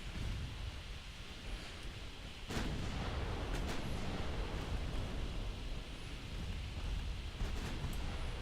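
Naval artillery from the warship game Ultimate Admiral Dreadnoughts rumbles under a constant wash of noise, with one sharp heavy blast followed by several quicker, lighter reports scattered across the stretch.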